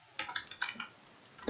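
Quick burst of typing on a computer keyboard, a handful of light clicks close together in the first second, then a pause and one more key press at the end.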